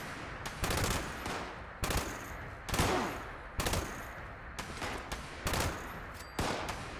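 Bursts of gunfire from a gun in Fallout 76 ring out in a steady series of sharp volleys, about eight close, loud strings of shots with short gaps between them and no talking.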